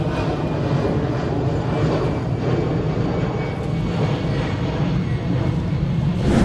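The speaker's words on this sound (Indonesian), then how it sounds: "mohon maaf kalau seandainya ada pesawat lewat gitu di depan ini. Karena kita dekat banget dengan bandara" A fixed-wing airplane passing near an airport, a continuous broad engine roar that holds steady and fairly loud for several seconds, with no clear talk over it.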